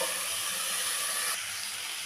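Snake gourd with prawns, salt and turmeric frying in a pan, a steady close sizzle and hiss of oil that drops slightly in intensity partway through.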